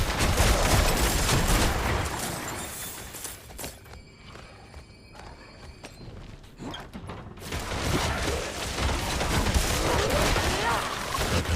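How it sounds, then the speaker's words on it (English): Dense, roaring barrage of artillery fire in a video game, loud sustained bursts and booms that briefly thin out mid-way before swelling again, with faint game sounds underneath. "Ooh, artillery!"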